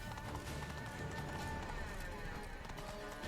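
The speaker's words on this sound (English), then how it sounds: "sprinting up the city on a horse at breakneck speed" A horse gallops at breakneck speed up through a city in Witcher 3, its rapid hoofbeats drumming continuously within a dense, busy game mix of music and ambience.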